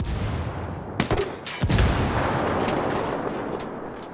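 Grenade blasts and belt-fed machine gun fire in Ghost Recon Wildlands, loud booming explosions with sharp cracks followed by a heavy continuous roar of sustained firing.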